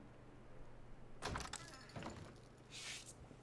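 A one-way door opening in Fallout 4: a quick cluster of faint mechanical clunks and a rattle, followed by a brief airy hiss, all quiet.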